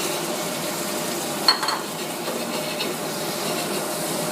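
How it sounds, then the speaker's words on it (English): Apples with thyme sweat gently in oil and butter in a saucepan, giving a soft, steady sizzle with one brief clatter of stirring near the middle. "We add a bit of oil. Sweat off all the apples"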